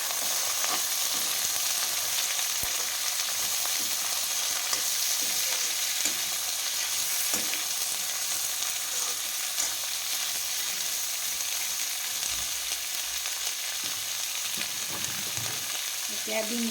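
Drumstick and potato pieces fry in a pan with onion, ginger and garlic paste, giving a constant close sizzle with occasional stirring scrapes. No one talks.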